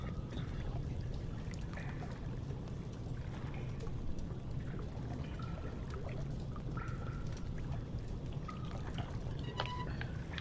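Sewer water runs in the horror game Amnesia: The Dark Descent as a faint, continuous pouring and trickling wash, with occasional small drips and splashes over a low steady rumble.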